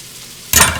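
Onions and peppers frying in a pan, stirred after a quiet moment: a sudden loud burst of sizzling and scraping that holds steady to the end.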